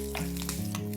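Mustard seeds, curry leaves and asafoetida sizzle and crackle in hot ghee, a brief, close, busy spatter with small pops and no talk.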